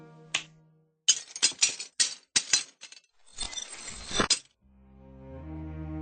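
Glass from a broken display case reassembling by magic: a faint sweep, then a quick run of bright clinks and tinkling chimes, a shimmering crystalline swell, and finally a sustained musical tone.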